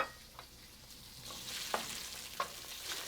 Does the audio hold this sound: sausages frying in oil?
yes